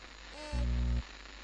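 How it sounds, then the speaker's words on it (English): Harsh white-noise static from a blank screen in Doki Doki Literature Club hisses steadily throughout, with a loud, low buzzing hum swelling in for about half a second in the middle. "it's a blank screen. White noise."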